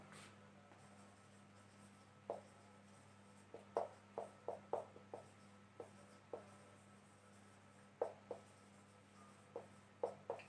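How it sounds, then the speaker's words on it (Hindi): Chalk or marker writes a sentence on a classroom board, giving a series of short scratchy taps and strokes in irregular bursts, faint against a steady low hum, with no one talking. "कि एक सेंटेंस लिख रहा हूं"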